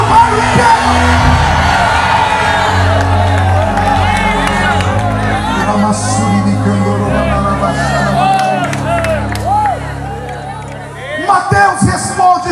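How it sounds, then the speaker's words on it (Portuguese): A church congregation shouts together loudly, a dense, sustained roar of many voices that carries throughout and ends in a few sharper bursts of yelling. "solte um grito para assustar o bairro inteiro"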